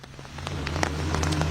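Monsoon rain falls in Delhi, a steady patter that builds slightly over a low, constant rumble, with individual drops tapping close by.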